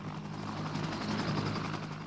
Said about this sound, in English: helicopters carry a section of 6 to 8 men out to the demilitarized zone to relieve others manning the observation posts